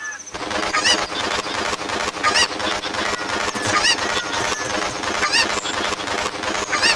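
A cucco chicken clucks and squawks in a Legend of Zelda game, loud and busy cries repeating throughout over a dense game soundtrack, with no talk.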